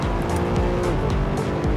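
A powerful modern hatchback accelerates hard on a racetrack, its engine roaring loudly up through rising revs with tires squealing, close and continuous.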